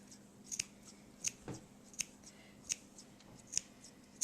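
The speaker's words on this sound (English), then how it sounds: "you're going to clip all of these edges all the way around like this" Scissors snip around the edges of quilt fabric for a Dresden Plate candle mat, with sharp quiet clips coming at a regular rhythm about every three quarters of a second, close and soft, no talking.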